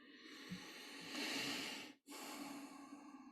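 Slow, audible breaths during a guided meditation: a long hissing inhale swells, then a brief pause, then a soft exhale, close and quiet.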